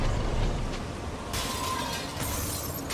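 Glass shatters in the video game The Wolf Among Us, a broad crashing burst that cuts in midway and rings out with bright debris over a constant low game background.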